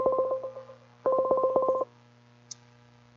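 A phone dialing a guest back on a call-in show emits two quick runs of touch-tone beeps, rapid and evenly spaced, followed by a single faint tone and near silence.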